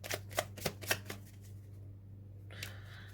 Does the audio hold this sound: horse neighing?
no